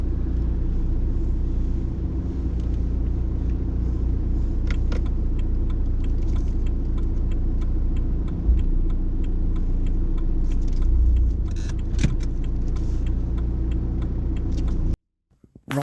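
Learner driver's car idling during a driving test, a steady low engine rumble close and continuous, with a few faint clicks and knocks inside the cabin before it cuts off abruptly at the end.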